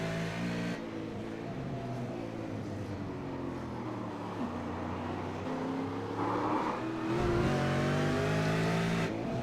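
Onboard race car engine at Oran Park raceway, downshifting to second for a tight turn then upshifting to third, a steady loud drone with pitch sweeps and a brief gear-change break near the end.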